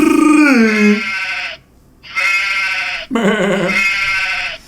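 A goat bleats loudly and close, three long wavering cries in a row separated by short pauses, standing alone with no talk over them.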